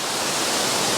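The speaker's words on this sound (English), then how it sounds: "Hopefully you can hear me over the waterfall." Steady, dense roar of a waterfall on the Falls Trail at Ricketts Glen State Park, broadband and constant like rushing white noise, close and loud with no voices.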